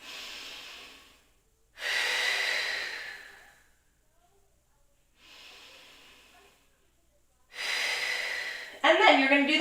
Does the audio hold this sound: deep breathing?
yes